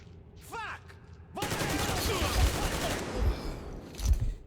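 Video game Metro Exodus firefight: a burst of rapid gunfire with clattering shots, a few heavier thumps after it, and a voice briefly heard alongside.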